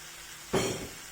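Water poured into a hot frying pan while cooking mullet with oyster sauce over lowered heat, giving a sudden loud hiss that bursts in at mid-clip and then settles into a steady, fading sizzle.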